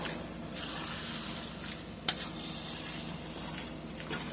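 Baked spaghetti sauce mixture with tomato sauce being stirred in a bowl or pot, a soft continuous wet shuffling with faint scrapes and one sharp utensil knock, fairly quiet and close.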